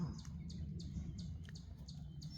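Small birds pass by outdoors with quick high chirps repeating at a steady pace, about two per second, over a low steady background hum.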